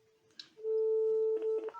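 Telephone dialing tones sound while a call is placed during a live Facebook stream, a short blip followed by a long steady tone and then a quick run of dual-tone keypad beeps, close and clear.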